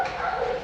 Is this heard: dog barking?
yes